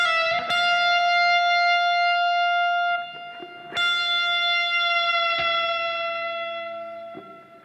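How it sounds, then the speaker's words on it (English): Electric guitar note pre-bent on the high E string at the 12th fret up to the F pitch, then released, ringing loud and sustained with effects; three picked attacks over about eight seconds, slowly fading. "I would bend the high E string up at the 12th fret"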